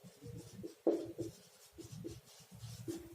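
Writing on a classroom board during a chemistry lesson, soft scratchy strokes in short uneven bursts, quiet and close, with one slightly louder tap of the marker or chalk.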